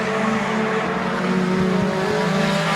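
Race cars roar together down the back straightaway at Midvale Speedway's asphalt oval, a dense, loud, sustained engine drone from the pack with rising pitch and no talk.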